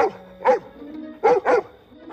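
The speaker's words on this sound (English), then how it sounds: "it sounds like they're trying to use dogs to track her down" Dogs bark in a My Little Pony cartoon episode, with a rapid series of sharp, clear woofs, first singly and then a quick double bark, loud and close over quiet background tones.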